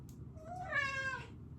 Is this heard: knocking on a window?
no